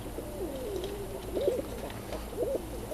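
Kazan crossed with Old German Owl pigeons cooing close by, soft rolling coos repeating in short warbling bursts over a quiet background hum.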